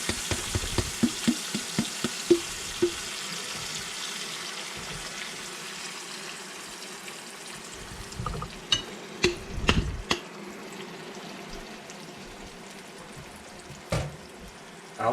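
Grease sizzling and spattering in a pan on a stove in a country kitchen, a steady fry hiss broken by sharp pops and knocks, with a few louder clatters along the way.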